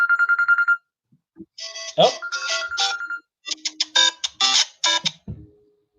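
A mobile phone ringtone chirps in a rapid electronic trill, then a second ringtone plays in repeated bright bursts while a person speaks briefly over it.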